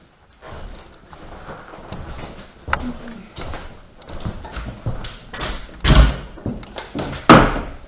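Warming oven door of an old stove in a ghost town building at Bannack, Montana, creaking and knocking open with several clunks and a couple of louder bangs, close by.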